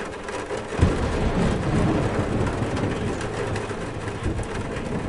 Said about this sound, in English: Get inside before the storm starts!